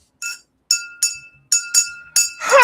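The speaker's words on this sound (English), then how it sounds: "I don't know what fascination I have with this whole tink tink thing" Several bright, ringing tinks from tapping a water glass, struck singly and in quick pairs with short pauses between, close and clear, ending in a louder clattering ring.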